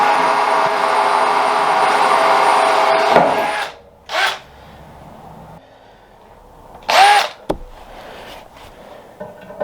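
A small hand drill bores a starter hole before a larger bit is used, with a continuous grinding whir broken by brief pauses and short louder bursts as the bit bites into the workpiece.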